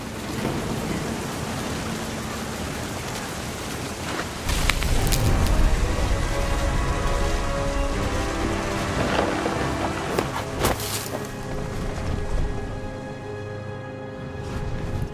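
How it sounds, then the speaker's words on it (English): Heavy rain pours steadily during a thunderstorm in What Remains of Edith Finch, with loud cracks and rolling booms of nearby thunder bursting out over the constant downpour several times. "The thunder sounded much too close and full of angry power"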